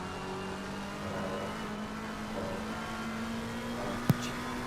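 Race cars lapping Monza in Assetto Corsa Competizione, a steady engine drone and whir at moderate level, continuous through the clip, with one brief sharp click near the end.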